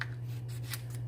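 Scissors snip through a craft card during paper stamping, a few faint crisp cuts over a steady low hum, close and quiet with no talk.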